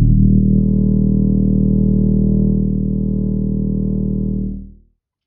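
Slowed two octaves down, a bass trombone's E flat becomes a thick, rumbling low drone, loud and steady for over four seconds with no other sound, then tapering quickly to silence.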